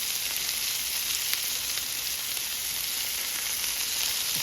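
Meatballs made with wet breadcrumbs frying in an overcrowded pan, a loud, steady sizzle with bright crackling spits throughout and no talking.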